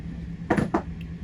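Metal chainmaille rings handled while building a Half Persian 3-in-1 sheet: two quick, close metallic clinks in a row, then a faint tick, against a quiet background.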